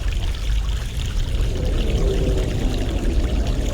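Fresh mountain water pours steadily in a fantasy game world, a continuous close splashing stream with no pauses, heard alone without any talk.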